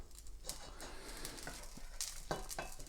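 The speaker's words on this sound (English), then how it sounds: "I'll quickly fry them off." Beans, asparagus and mushrooms fry in butter and oil in a pan, with a steady low sizzle and scattered stirring scrapes and clinks of utensils against the pan.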